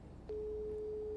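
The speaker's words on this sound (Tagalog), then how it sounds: "nagriring po ang cellphone ni Ma'am Deborah kan Philippine Institute of Volcanology and Seismology" A cellphone rings out on an outgoing call to a volcanology and seismology institute, a steady single ringback tone starting after a short pause and holding on continuously, fairly faint under a low room hum.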